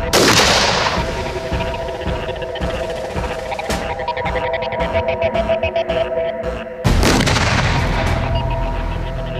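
A bounding fragmentation land mine erupts with a loud, sustained blast and rumbling roar, followed by a second sharp burst near the end, dense and close with no speech.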